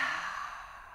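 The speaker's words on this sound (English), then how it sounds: "Open your mouth, exhale it out, let it go." A single long, breathy exhale through an open mouth, close and steady, slowly fading toward the end.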